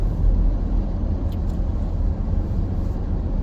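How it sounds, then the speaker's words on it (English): Road traffic rumbles past in a steady, loud, low roar with continuous engine noise from passing vehicles and no clear breaks. "sorry, traffic happening here"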